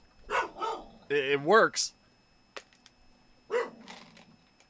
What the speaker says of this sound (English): My dog is going batshit now.